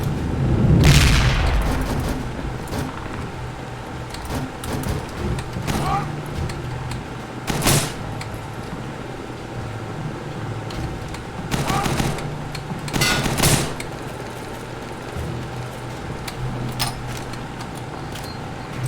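Heavy artillery booms and gunfire bursts in the World War II shooter RealRTCW: a loud close blast opens, then sharp bangs and rattling shots recur against a steady rumbling battle backdrop.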